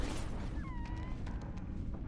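In the video game No Man's Sky, a cat-like alien creature gives a couple of short rising meows over a heavy rumbling background, faint against the noise.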